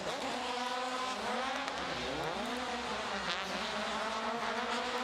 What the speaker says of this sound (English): Nice donuts as well, not too much tyre wear.